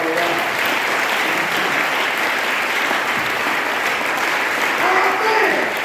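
A church congregation applauds the Lord in sustained, dense clapping, loud and steady for the whole stretch, with voices mixed into the crowd noise.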